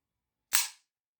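A single sharp, bright metallic snap from an empty Saiga MKK-102 rifle as the trigger is dry-fired during a function check, isolated in silence and quickly decaying.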